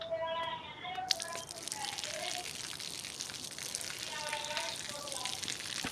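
Water falls onto a man walking along in a played video, a broad continuous splash and hiss that starts abruptly and runs over a background of tonal music-like notes.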